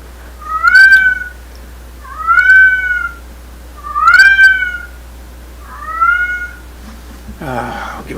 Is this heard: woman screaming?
no